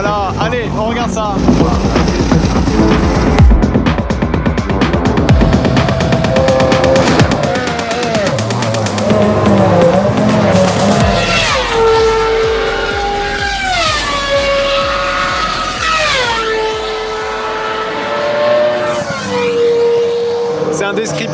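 A Ferrari Formula 1 car on track at the Finali Mondiali event screams loudly, its engine pitch climbing and dropping through repeated gear changes, with a rapid burbling start and sharp high revs up close.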